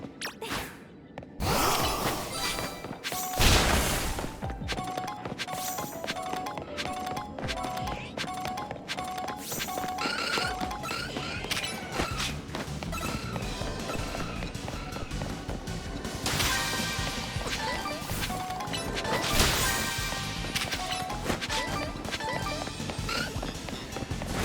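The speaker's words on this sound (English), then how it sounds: "destroy Pokeballs" Poké Balls being smashed in Pokémon Legends Z-A, sharp cracking hits and clattering bursts repeating through a busy mix of game music and effects, close and fairly loud with no talking.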